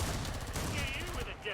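Rapid gunfire in a shooter game: a dense burst of overlapping shots, fairly loud and close, with other game sounds mixed in.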